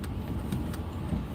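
City street traffic of taxis and buses, heard as a steady low engine rumble and road noise with a few faint, brief clicks, close and continuous without speech.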